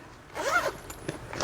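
Zipper on a bag compartment being opened: a single quick, close zip pull of about half a second, followed by faint rustles of handling.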